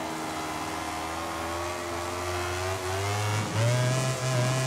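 Racing motorcycle engine in MotoGP 18 at Catalunya, a loud, close, continuous high-rev whine that dips and climbs again through downshifts and throttle changes near the end.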